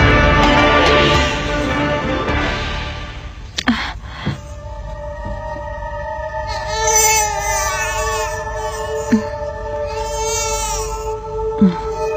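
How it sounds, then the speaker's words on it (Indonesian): An infant wails in a period Indonesian legend drama. Close, repeated crying swells in the second half over a dense background with a few sharp knocks. "Ibu mendengar suara bayi menangis?"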